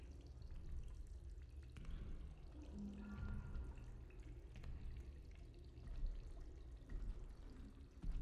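Steady, low rushing of running water in the horror game Routine, continuous and fairly close throughout, with faint tonal hum and small splashy drips layered over the flow.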